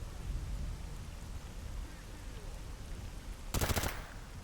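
A short burst of rapid automatic gunfire in the shooter game Stalker GAMMA, fairly distant and muffled, cutting through steady rain-like ambient noise, with no talk over it.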